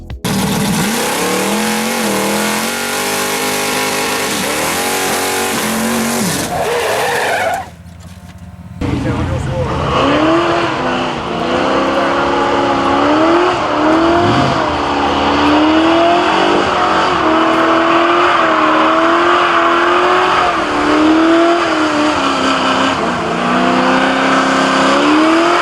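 A Plymouth Duster, a Duster 340 with a 340 cubic inch V8, races in a video game. The engine revs loudly and continuously, pitch climbing and falling through gear changes, with a brief dip near the start.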